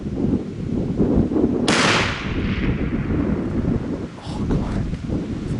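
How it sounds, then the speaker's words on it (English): A rifle shot fired at an elk while hunting in the Wyoming wilderness cracks loudly once, then echoes and fades, with wind buffeting the microphone throughout. "I was able to shoot through them trees, and I did hit him."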